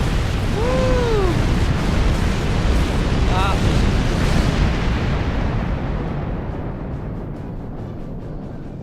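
An Undine Dreadnought blows up in the Star Trek Online game with a huge sustained explosion roar, then a long rumbling decay that slowly fades, a few whistling tones rising over it early on.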